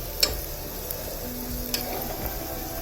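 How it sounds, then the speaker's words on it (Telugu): Mutton keema sizzles in hot oil in a pan, a steady crackling fry with a few sharp pops and occasional stirring clatter. "అందుకే ఫస్ట్ ఆయిల్లో కీమా వేసుకుందాం"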